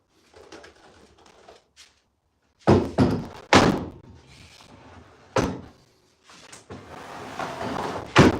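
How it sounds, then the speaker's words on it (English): A wooden door carried into a carpentry workshop knocks and bumps as it is handled, with several loud close thunks and scrapes between quieter shuffling. "I'm going to bring the door in"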